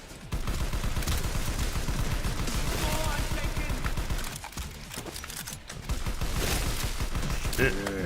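Rapid bursts of gunfire from a powerful gun in the video game Strike Force Heroes, loud and sustained with short pauses, under constant in-game sound and talk.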